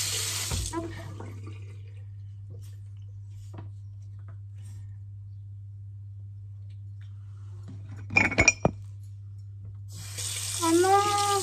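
Tap water running into a bathroom sink to wet a toothbrush during a morning tooth-brushing routine, a steady moderately loud flow in two bursts at the start and end, with a few clicks and clatters in between.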